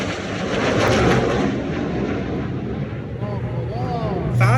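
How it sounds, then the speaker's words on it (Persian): Two fighter jets performing an air show display over Toronto roar past in a continuous loud rumble of engine noise, with someone talking over the sound throughout. "نگو دوتا جت جنگی اینجا حرکت نمایشی میکرد"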